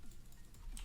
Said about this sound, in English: We're going to type